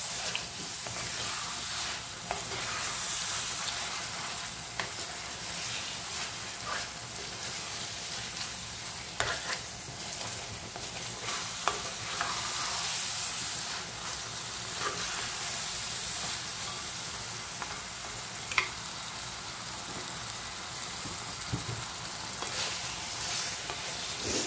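Whole spices and chicken frying in a pot while being stirred, a steady sizzle and hiss with intermittent scraping clinks of the spoon against the pot, close and continuous with no talking.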